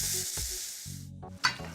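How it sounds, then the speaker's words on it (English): Rice toasting in a pot over high heat gives a loud, steady sizzle with intermittent stirring scrapes and a sharp clink, close and alone. "first 2 minutes toasting this rice over a high heat"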